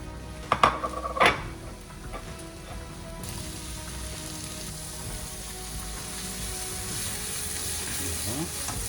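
Vegetables go into a pan of hot olive oil for a Thai yellow curry with prawns; a couple of sharp clatters open, then a steady close sizzle of frying carries on to the end.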